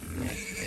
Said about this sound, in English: That's my boar there.